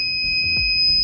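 An IoT flood warning system's buzzer alarm goes off once water rises above 70%, a steady, piercing electronic tone with two pitches holding constant throughout, nearby and alone.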